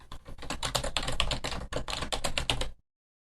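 Brisk keystrokes on a computer keyboard as a new folder name is typed, a dense run of close clicks for nearly three seconds before stopping into silence.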